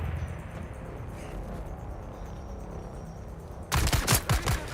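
Bursts of gunfire in the video game Dune Awakening: after a stretch of low ambient rumble, a loud cluster of rapid shots erupts near the end, several sharp cracks in quick succession.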